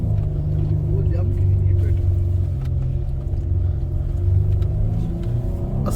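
A Toyota SUV drifting across desert sand on a safari churns out a steady, loud engine rumble with rising revs, while people talk over it throughout.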